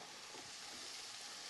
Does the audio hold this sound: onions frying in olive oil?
yes